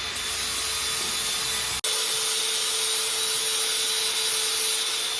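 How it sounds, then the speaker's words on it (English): A grinder works steadily, grinding down a steel pin so it will fit through a bearing eye. The grinding is loud and continuous, with one brief break early on, and no voices are heard. "Jamie's just grinding the pin down so it fits through the bearing eye"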